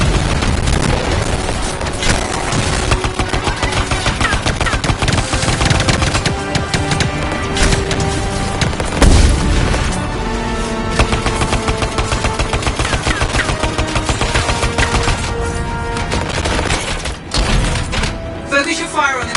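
Constant gunfire in the video game Anthem, with rapid automatic bursts, heavy booms and impacts. It is loud and close for the whole stretch, and a voice is faintly present underneath.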